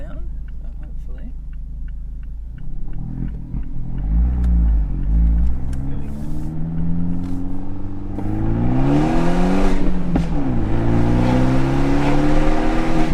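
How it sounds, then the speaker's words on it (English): Car engine revved hard in repeated climbs, pitch rising and falling as the throttle is worked, loud and close, after a short spoken line. "just gonna take it up here again and see if I can get it to make a big popping sound"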